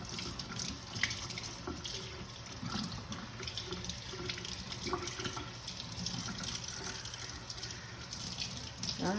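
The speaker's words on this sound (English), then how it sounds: "wash your vegetables. So we're washing the vegetables" Tap water runs steadily into a kitchen sink as vegetables are rinsed, a continuous close splashing wash with small clunks and handling noises throughout and no talking.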